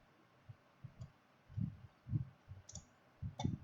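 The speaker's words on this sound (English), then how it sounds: "click next once more" Several soft mouse clicks come in an irregular rhythm during a VMware network server setup, close and quiet, with a low hum underneath and no talking.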